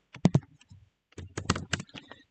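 Keystrokes on a computer keyboard, a quick burst of clicks followed by a short pause and then a longer, uneven run of close, crisp taps.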